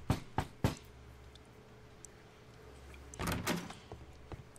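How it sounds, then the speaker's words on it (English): A door in the video game Sherlock Holmes: The Devil's Daughter, sounding as a few sharp knocks at the start and another quick cluster of thumps near the end over a quiet hum. "Knock, knock."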